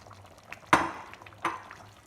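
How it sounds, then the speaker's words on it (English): Tomato paste added to a pot of Rajasthani mutton curry, heard as two distinct wet plops with a clatter against the pot, each fading quickly over a quiet background. "Now it is the time to add the tomato paste, which we already prepared,"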